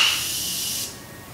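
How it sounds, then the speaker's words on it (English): A Morphe Continuous Setting Mist bottle sprays one long, fine, close hiss that lasts nearly a second and then cuts off, leaving quiet room tone. "it's the Continuous Setting Mist"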